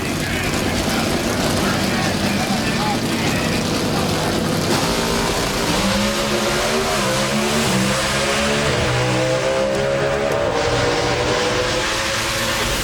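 Pro Stock drag race cars at the NHRA Southern Nationals in Atlanta launching down the track: loud, roaring engines rising steadily in pitch as they accelerate away, with a continuous crowd and ambient roar around them.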